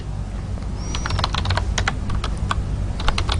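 Rapid, irregular keystrokes on a computer keyboard, close and fairly loud, typing text during a C programming lesson, over a low steady background hum with no talking.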